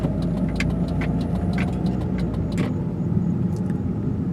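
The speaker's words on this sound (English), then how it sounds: "did y'all hear that annoying ass turn signal" Steady car engine idle and road rumble at a grocery store, with faint regular clicks, likely a turn signal, ticking along under the engine noise.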